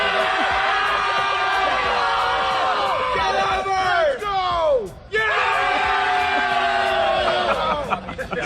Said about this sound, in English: there was a bachelor party with about like 12 jabronis screaming at me